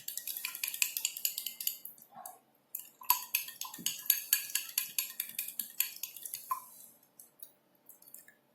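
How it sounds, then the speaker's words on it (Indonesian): Small, rapid clicks and scrapes come from a utensil stirring homemade hand sanitizer in a container, a quick rhythmic series with a couple of brief pauses, close and dry. "Oke, diaduk lagi sampai dia cukup rata ya guys."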